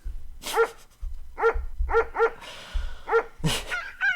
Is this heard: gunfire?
no